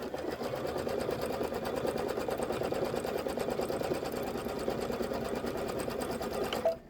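A sewing machine stitches table topper blocks in one continuous, even run with a rapid mechanical rhythm, close and steady, ending abruptly.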